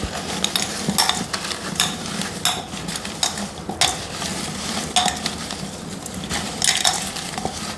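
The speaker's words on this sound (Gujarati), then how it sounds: "એને જરા ચલાવીએ છીએ." Food stirred in a cooking pan at a live women's contest event, with steady scraping and clinking of a utensil against the metal pan over a faint sizzle, repeated strokes throughout, close and fairly loud.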